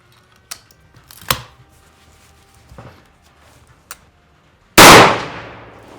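A single loud rifle shot rings out from a custom handmade rifle built on an Encore frame during sighting in, preceded by a few faint clicks and handling knocks.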